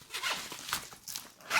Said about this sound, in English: just by doing the zipper here